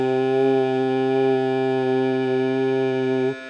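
A voice sings exactly in tune with a sustained equal-temperament C note, the two harmonic tones blending into one smooth, steady drone without beating, loud and close, ending abruptly after about three seconds.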